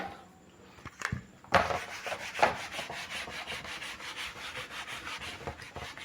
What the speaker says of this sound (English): I'm rubbing this also so that we get a better view.